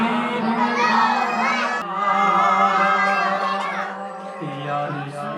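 A large crowd at a devotional mehfil gathering shouts a loud, sustained response in unison to the Nara-e-Takbeer call, the many voices blending into one continuous, close roar.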